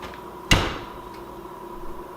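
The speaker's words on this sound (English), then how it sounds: "and close the door" A kitchen oven door shuts once with a single solid thud, followed by a short fading rattle, heard close and alone against a quiet room.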